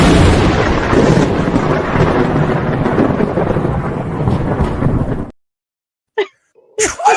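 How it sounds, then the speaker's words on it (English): A thunder and lightning bolt sound effect plays as a loud, dense, rumbling crash lasting several seconds before stopping dead, then a couple of short vocal bursts follow. "I always love the lightning bolt."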